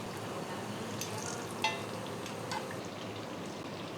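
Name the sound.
unniyappam batter frying in oil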